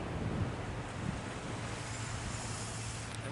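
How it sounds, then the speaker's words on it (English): Ocean waves wash against the shore with wind buffeting the microphone, a steady, soft roar of surf and low rumble throughout. "the wind and the ocean just got really quiet and still"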